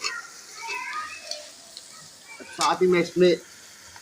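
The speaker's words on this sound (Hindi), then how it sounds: "ये सारे अब मैं मसाले इसमें डाल दूँगा और इसको मैं थोड़ा सा फ्राई कर लूँगा" Spices fry in hot oil for Indian bhindi masala, giving a faint, steady sizzle beneath a man's speech, with a few clearer spoken bursts near the end.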